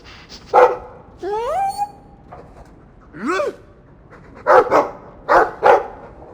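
A dog in the video game Dragon Age 2 gives a series of short barks and rising whines, loud and close, with pauses between bursts.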